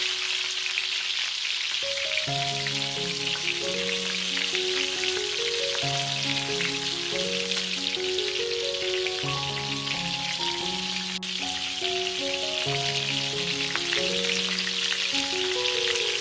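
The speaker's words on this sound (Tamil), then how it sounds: "நாம ஃப்ரீசர்ல மேரினேட் பண்ணி வச்சிருக்க சிக்கனை உள்ள இறக்குங்க. மீடியம் ஃப்ளேம்ல பொரிச்சு எடுக்கணும்." Marinated chicken deep fries in hot oil over a medium flame, with a continuous bubbling sizzle throughout, while a melodic instrumental tune plays over it.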